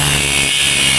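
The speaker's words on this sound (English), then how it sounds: "I went through with the grinder and cut a bunch of slits into it" A grinder cuts into the metal body of a Nissan 240SX, a loud, steady, continuous whining grind up close with no letup and no voices.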